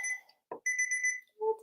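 A timer alarm rings a few short, clean electronic tones in quick succession, clear and close in an otherwise silent room.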